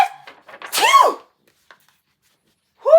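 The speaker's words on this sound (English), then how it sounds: "I sneezed a great sneeze" A single big, theatrical sneeze with a quick inhale before it, close and loud, followed by silence and a short voiced sound at the end.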